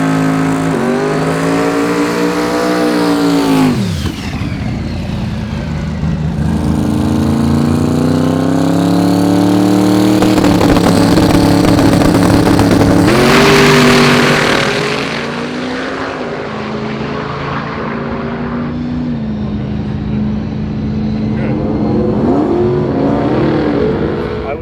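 SMX Dodge Viper drag car engine, loud and close, revving in rising and falling sweeps with a steady harmonic drone, a sharp drop near four seconds and a renewed surge around fourteen seconds, with no talk.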